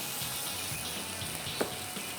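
Water is poured into a chicken stir fry in the pan, a soft continuous trickle over a steady broadband wash, with one brief splash or clink partway through; there is no talking.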